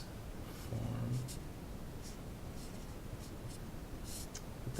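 A pen scratches out a quantum mechanics equation by hand, a soft continuous stroke noise close by with a few faint taps and light background hiss.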